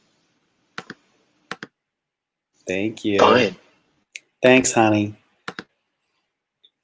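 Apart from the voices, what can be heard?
computer keyboard typing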